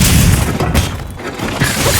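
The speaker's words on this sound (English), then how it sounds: "Pressing all the 3 buttons together will trigger this very cool attack." A switch axe's unbridled slash in Monster Hunter Wilds unleashes a dense run of loud booming impacts and crashes that barely let up.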